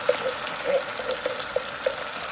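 Tap water running into an emptied metal tomato can in a home kitchen while making pizza sauce, a steady broadband hiss with small rising tonal plinks as the can fills, close and alone.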